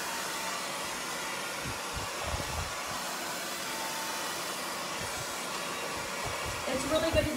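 A hot blow dryer runs continuously close by while drying long layered hair, a loud, even whooshing roar that shifts slightly as it moves near the end.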